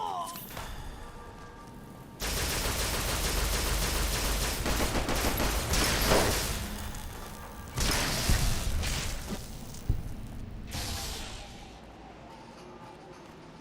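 Gunfire in Fallout New Vegas: loud, rapid bursts of shots with heavy thuds and whooshes, several dense volleys separated by short pauses, close and dominant.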